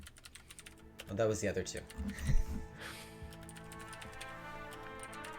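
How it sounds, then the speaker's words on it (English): Rapid clicking of a computer keyboard being typed on, steady and close, running under people talking nearby. "I'm still typing it"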